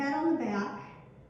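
A voice imitates intense, heavy breathing, one drawn-out, strained voiced breath that fades away, as if standing with hands on the arms of a chair and head tipped back.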